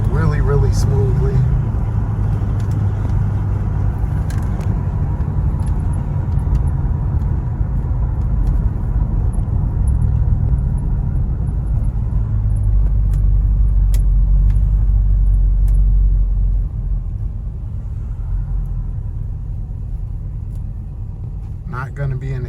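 A 1970 Chevy Monte Carlo cruising along the road, a steady low engine and tyre rumble heard from inside the car, easing off slightly near the end, with someone talking over it.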